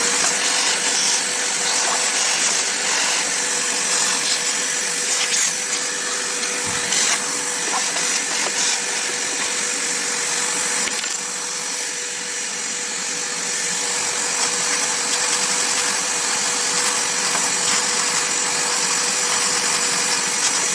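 A vacuum cleaner is used to clean a sewing machine, making a steady, loud, high-pitched whine with an airy hiss that runs unbroken for about twenty seconds, with no talk.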